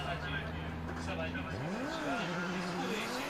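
Yusuke Kusaba's Cusco Racing Toyota A90 Supra drift car at Formula Drift Japan qualifying in Ebisu: a loud engine holds a high rev, dips, then climbs again as tires scrub. A commentator talks over it.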